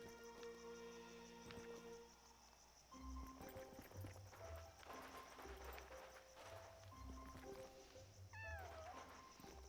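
Cat meowing in the video game Yonder, several short, faint meows scattered over soft background music and ambient game tones, with one rising meow near the end.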